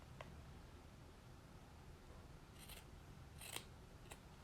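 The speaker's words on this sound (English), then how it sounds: "just snip it off" Scissors snip through quilt binding fabric in a few sharp, separate cuts, faint and close against a quiet room hiss.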